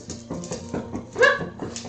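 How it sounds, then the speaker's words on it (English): Audrey, a pet dog, gives a few soft whimpers and whines close by, a brief cluster of high, plaintive yelps with one slightly louder cry midway, no speech. "This is Audrey. This is my dog."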